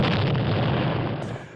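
A heavy, deep explosion roars as a dense continuous blast, loud and close, sustained before trailing off, evoking the Halifax Explosion of 1917.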